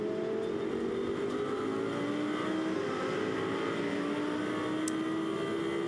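Nissan race car engine sounding steadily close by on track during a race, a sustained droning roar with rising pitch lines as it accelerates, with no talk over it.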